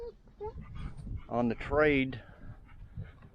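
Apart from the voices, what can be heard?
pet dog panting and whimpering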